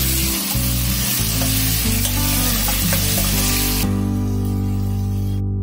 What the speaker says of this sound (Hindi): अब इसको हम मिक्स कर लेंगे और सौते कर लेंगे।